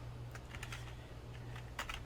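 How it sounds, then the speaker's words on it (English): Keys clatter on a computer keyboard in short bursts of taps, fairly quiet and close over a low steady hum, with no voice. "and then we'll just start typing"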